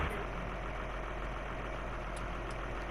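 A 210-horsepower tractor engine in Farming Simulator 19 runs at a steady, dense idle, a constant rumble with no breaks and no talk over it.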